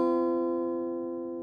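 A guitar in standard tuning with the B and high E strings barred by the index finger, a single sustained strum ringing and slowly fading, close and alone.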